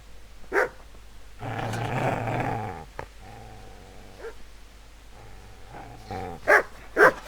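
Dog growling and barking in the Kingdom Come Deliverance video game: a snarling growl burst, then a few sharp barks and whimpers near the end, fairly close.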